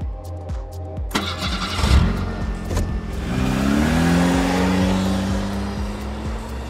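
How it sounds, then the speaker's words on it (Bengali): Self-starter cranks a 2005 Toyota Probox car engine, which catches and settles into a steady, close idle with a rising hum; no talking. "দেখুন ফার্স্ট সেলফে স্টার্ট, হেবি সুন্দর ইঞ্জিনের সাউন্ড।"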